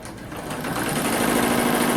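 A Blue Sky 1501 embroidery machine runs through a color change with a steady, close mechanical whir and a rapid rhythmic buzz that holds at an even level for the whole stretch, with no voices.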